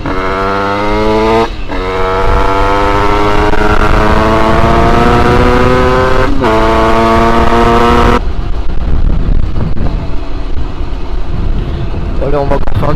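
An 86cc aluminium top-end motorbike engine being run in with a new clutch, revving hard and climbing through the gears in rising whines broken by brief shift gaps, loud and close with wind rush, then dropping to a rougher lower drone.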